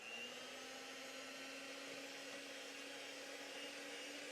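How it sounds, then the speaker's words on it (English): Butter and sugar being creamed together, half a cup of butter with three-quarters cup of sugar, under a continuous steady electric mixer whine with a faint motor hum and no talking. "We got half a cup of butter and 3/4 cup of sugar, and we're going to cream this together for a few minutes."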